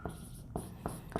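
Chalk or marker strokes on a board during a chemistry lecture, three or four short scratchy bursts in quick succession, close and clear with no voice.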